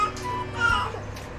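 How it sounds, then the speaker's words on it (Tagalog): A baby babbles and coos in short, close vocal bursts, a soft rising-and-falling run of infant sounds with a whimpery edge, lasting just over a second. "Para nagdadaldal siya."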